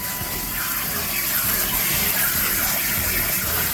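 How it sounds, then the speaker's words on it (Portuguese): Steady rush of cold tap water streaming over freshly cooked pasta in a kitchen sink to stop the cooking, a continuous broadband splash close by with no talking. "Sempre usa um jatinho de água fria para parar"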